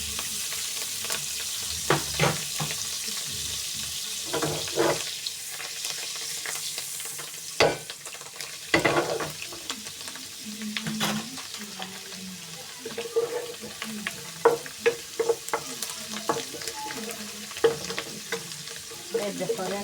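Coriander frying in a pan while making a quick pasta dish, a steady soft sizzle under intermittent clinks and stirring scrapes, close and moderately loud, with no talk.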